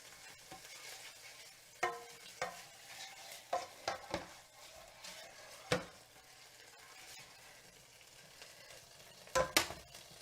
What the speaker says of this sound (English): So I'm going to melt these anchovies.